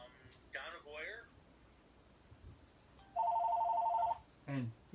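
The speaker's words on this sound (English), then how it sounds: "And here we got a phone call" A telephone rings once with an incoming call, a steady electronic warbling tone lasting about a second, with people talking just before and right after it.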